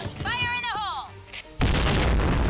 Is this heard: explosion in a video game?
yes